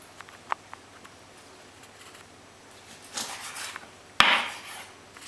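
A chef's knife cuts through a bird on a board while it is boned, the breast scored and trimmed, giving a few faint taps early on, then a rustling scrape and one sharp chop followed by a brief dragging cut near the end.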